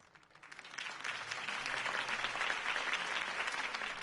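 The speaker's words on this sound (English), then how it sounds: "could have heard that applause" Steady, enthusiastic applause from a crowd, building quickly and holding at full strength throughout.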